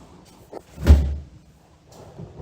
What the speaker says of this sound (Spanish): cuando abro la puerta